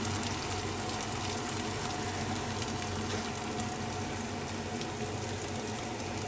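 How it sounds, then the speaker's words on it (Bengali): Chow mein frying in a pan at home, a steady close hiss and sizzle running unbroken throughout with no talking. "চাউমিন হচ্ছে"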